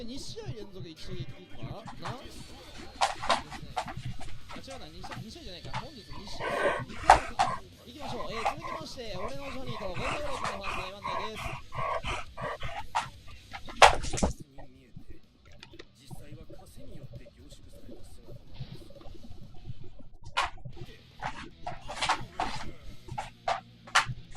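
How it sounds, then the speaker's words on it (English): A pet dog whimpers and lets out sharp yips and barks in bursts, close by, while someone talks over it and keyboard clicks tap in the background. "Sorry, I'm getting distracted by my dog."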